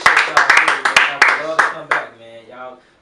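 Sparse, uneven hand clapping from a small group rings out for a rapper at the end of a radio interview, mixed with talk and a music bed before fading into the background.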